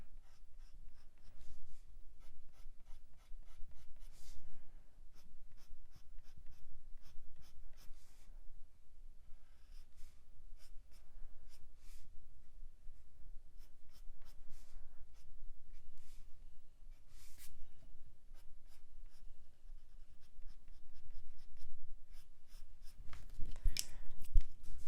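A dark umber colored pencil scratches steadily across paper in quick back-and-forth strokes, close and continuous with no talking, ending in a brief louder rustle.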